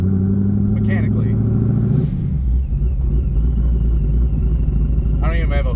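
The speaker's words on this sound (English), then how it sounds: "so you might be able to hear the supercharger. It's pretty loud." A supercharged Chevrolet Corvette C7 with no hood, out for a cruise, gives a loud, deep engine rumble with a steady drone and a rise in pitch partway through, heard close and under people talking.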